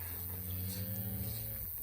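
Angus cattle in a herd during fall calving season give one long, deep, close moo.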